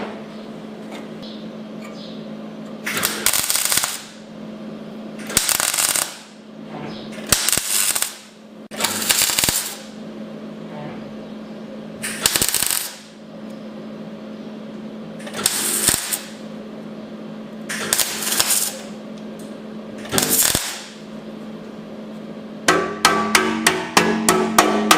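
Tack welding on a sheet metal sump: a series of about nine short crackling bursts, each a second or so long, separated by pauses over a low steady hum, ending with quick rapid clicks.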